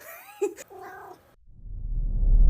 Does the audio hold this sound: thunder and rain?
no